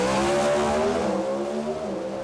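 Drag racing cars launching side by side at Willowbank Raceway, a loud, close, steady engine roar with a rising harmonic pitch that holds for the whole short burst.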